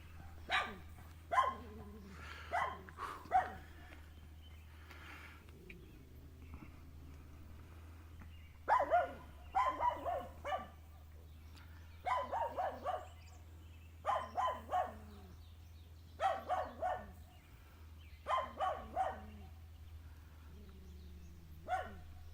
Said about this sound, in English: His dogs bark nonstop.